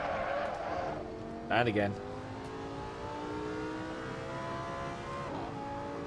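A race car in the Assetto Corsa video game drifts at Laguna Seca. Its engine whines through rising revs and gear changes, with a short burst of tyre squeal and skid partway through, and a voice talks over it.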